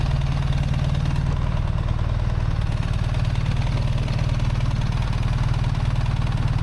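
A 2024 BMW R 1300 GS motorcycle engine idles steadily up close, with a loud, even low rumble and fine rapid pulsing throughout, and no voices.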